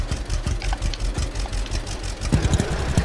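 A tractor engine in Farmers Dynasty 2 idles close by with a steady low, knocking chug that continues throughout, growing slightly rougher toward the end.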